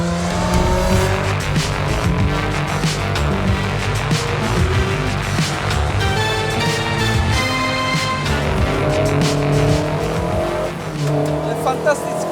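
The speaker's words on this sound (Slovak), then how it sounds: "A my vyzkoušíme, jak tahle 30 let stará Škodovka to bude dávat." A 30-year-old Škoda driven fast on a rally stage revs hard and changes gear quickly, its tyres squealing through the corners. The engine sounds loud and close, with voices talking over it.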